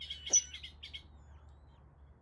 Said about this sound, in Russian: А вот это семейство лысух, у них тоже птенчики.